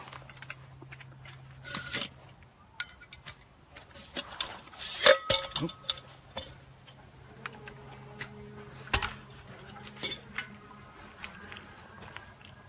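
Outdoor camping cook gear, including a single-wall steel canteen and mug, is handled up close: scattered clinks, clanks and taps of metal pieces with soft rustling between them, irregular and sharp.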